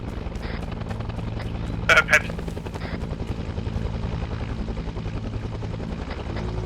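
A helicopter in the video game Arma 3 keeps up a steady rotor drone through the whole stretch, mixed under ongoing radio chatter and talk from players.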